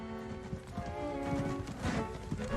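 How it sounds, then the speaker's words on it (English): Hooves of a galloping horse clatter over cobblestones in a radio drama, a rapid clip-clop rhythm running throughout under a sustained musical tone. "Holmes flicked the horse into a gallop,"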